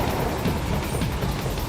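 A train in a video game rolls along its tracks with a dense, continuous rumble and faint rhythmic clatter, loud and close throughout.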